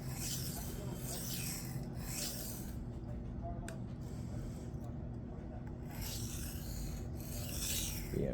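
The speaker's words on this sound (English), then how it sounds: "Kissing the apex with the stone. Working that burr away." Cold Steel Kudu Lite knife edge worked on a Shapton Glass 220 whetstone, rhythmic gritty rasping strokes at close range, with a brief pause in the middle before the scraping resumes.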